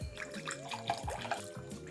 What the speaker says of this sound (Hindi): इसके बाद हम लेंगे अपना डोंगा एंड डोंगे में डालेंगे जल, मतलब नीर, मतलब पानी